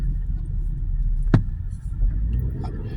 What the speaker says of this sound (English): I gotta move my damn car